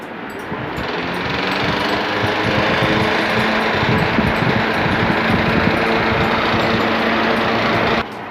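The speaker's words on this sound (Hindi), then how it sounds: "अब पंखा चला कर देखते हैं।" A homemade 12 volt DC air cooler fan runs with a loud, steady whir and mechanical rattle, starting abruptly and holding an even level for about seven seconds before cutting off sharply.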